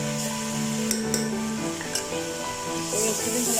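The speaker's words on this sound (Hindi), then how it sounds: "अब हम डाल देते हैं 1 टेबलस्पून जिंजर गार्लिक पेस्ट।" Ginger garlic paste frying in a pan, a steady bright sizzle that runs throughout with a few sharp stirring clinks and a hiss that rises near the end.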